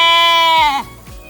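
A six-month-old merino-cross ewe lets out one loud, close, wavering bleat that trails off and drops in pitch near the end, with nothing else around it.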